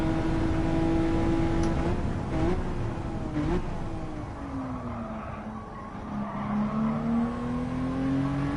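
Honda NSX tires squealing and skidding as the car slides during a Gran Turismo 7 lap at Autopolis, a sustained sliding squeal over a steady engine drone with a few brief bumps, loud and close with no talking.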